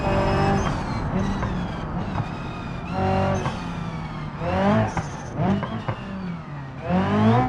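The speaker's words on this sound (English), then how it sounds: "let's give you some sounds from the inside this time" Heard from the cabin in BeamNG.drive, a car engine revs up and drops back again and again, loud and close, with pitch rising under acceleration and falling between gear changes.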